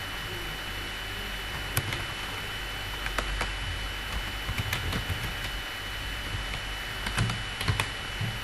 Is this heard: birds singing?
no